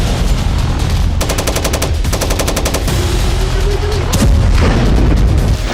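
Missile strikes and explosions in the war in Ukraine, a loud, dense roar of rapid gunfire-like bursts and booms with heavy low rumble throughout, close and continuous.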